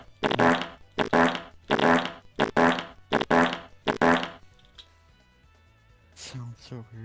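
Repeated loud fart noises in a game, six or so buzzy bursts in quick succession, followed by quieter sounds and a brief voice near the end.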